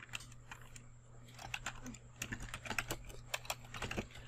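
A question being typed on a computer keyboard: soft, quick, irregular keystrokes clicking close by at low volume, with a faint steady hum underneath.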